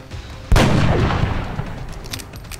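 A single loud gunshot from the video game XCOM Enemy Within, an abrupt crack followed by a rumbling blast that decays over about two seconds.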